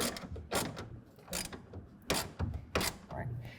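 A front clamp on a RealTruck UnderCover Armor Flex hard folding tonneau cover is tightened down. Repeated ratcheting mechanical clicks and grinding bursts come in a steady rhythm, close and fairly loud.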